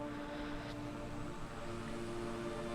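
A plane cruises through turbulence in Microsoft Flight Simulator 2020, producing a steady, loud, droning engine and airframe hum with constant tonal layers and no voices.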